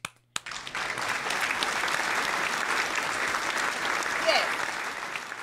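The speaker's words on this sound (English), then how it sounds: "Let me get a hand clap going on." A recorded hand clap applause sound effect plays as steady, crowd-like clapping that starts abruptly after a brief click and continues evenly at moderate loudness.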